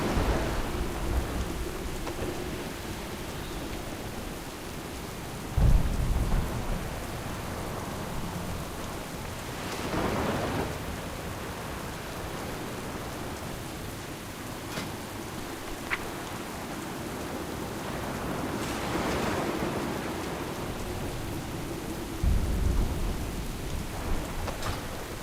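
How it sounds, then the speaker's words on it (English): A thunderstorm with steady heavy rain in a World of Warcraft: Mists of Pandaria cinematic, with several deep thunder rumbles rolling in at intervals beneath the constant downpour. "This storm will soon overwhelm us!"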